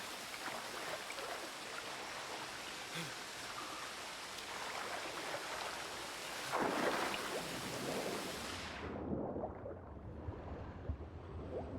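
A thunderstorm with steady heavy rain hissing outside, a low rumble of thunder swelling in the middle, then the rain noise suddenly drops away to a quieter background.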